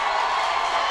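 Cheerleaders rouse the home crowd at a Simon Fraser at Western Oregon college football game, a brief dense wash of distant crowd noise and chanting.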